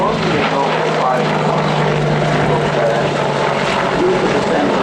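An Apache helicopter flying a display at the Royal International Air Tattoo, Fairford 2013, gives a loud, continuous rotor and engine roar that stays steady throughout, with a low hum underneath.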